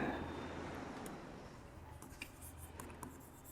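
Marker or chalk writing on a classroom board during a matrices lesson, a soft continuous scratching with brief squeaky strokes toward the end, quiet under a low steady room hum.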